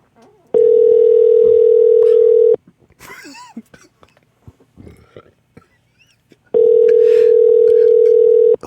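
Two long, steady telephone dial tone beeps sound while a caller connects, loud and separated by a stretch of muffled background noise, breathing and faint mumbling between them.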